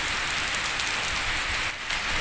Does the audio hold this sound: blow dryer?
no